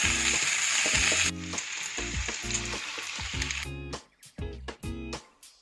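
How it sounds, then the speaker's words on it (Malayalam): Pancetta pork pieces fry in oil with a loud, dense sizzle that later thins into bursts of spitting and crackling as the pieces are stirred, in a Spanish home kitchen in Toledo. "അപ്പോൾ അത് ജസ്റ്റ് ഒന്ന് വറുത്തെടുക്കുക"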